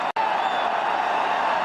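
Football stadium crowd at Juventus against Chievo, a steady, broad roar of appreciation sustained throughout the short moment, with no clear individual voices.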